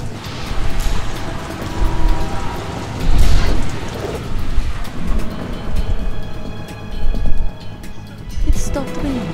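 Steady rain hiss from the video game Metal Gear Solid 2, with low rumbles like distant thunder, mixed with game sounds and voices talking over it throughout.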